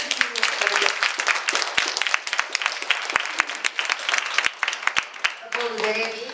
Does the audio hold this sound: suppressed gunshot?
no